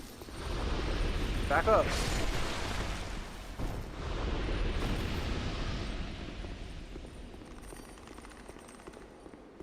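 An enemy explodes in Dark Souls 2 with a loud burst and a long crackling roar, and a voice speaks briefly over the game noise.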